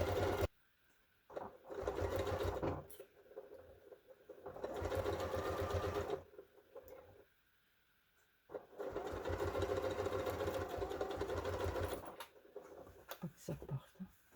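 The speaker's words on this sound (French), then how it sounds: "Si vous cousez à la machine, vous cousez tout au bord" Sewing machine stitching along the edge of a fabric hair towel turban, running in several steady bursts of a few seconds each separated by pauses, close and clear.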